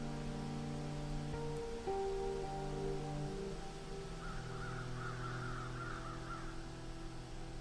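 A crow caws a few times at a distance in a forest, the harsh calls faint against a steady hum of background noise and soft patter, with no voices.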